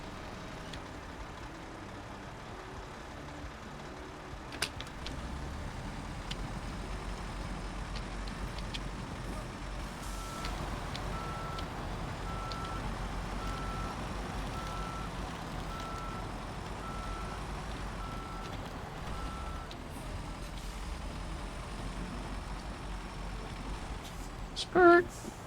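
Worn truck in a video game, a low engine idle running under talk, with faint repeated reversing beeps in the middle and a brief louder clunk near the end.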